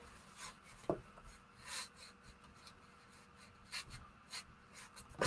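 Blade scraping and slicing through paper for a junk journal cover, a run of short dry rasping strokes with a few sharper taps, close and fairly quiet with no talking.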